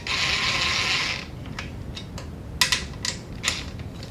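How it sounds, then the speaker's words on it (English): An impact driver set to its lowest setting tightens a wall or ceiling projector mount, starting with a steady loud whirring burst about a second long, then quieter with a few sharp ratcheting clicks and taps. "this is an impact driver, but I have the setting on 1"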